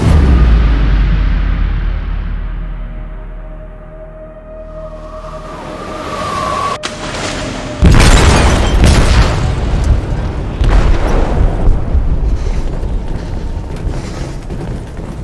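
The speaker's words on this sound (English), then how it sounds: "They detonated an explosive in the hold." Explosive detonation in a ship's hold in the video game Detroit: Become Human, a heavy deep boom with sustained rumble and crashing debris, loud and close, followed by turbulent roaring noise.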